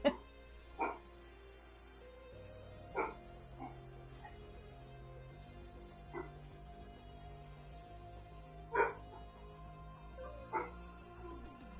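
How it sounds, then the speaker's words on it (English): Several dogs give scattered barks and yips, with a few short bursts spaced across a quiet indoor room and a low steady hum beneath. "Apologies for the dogs."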